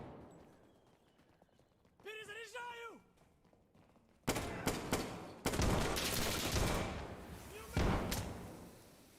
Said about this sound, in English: Alright, we're landing a couple shots.